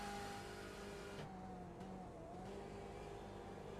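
Several iRacing race cars idle and crawl along the pit lane at Virginia International Raceway, a steady layered engine drone with a faint tire squeal, holding constant from start to finish.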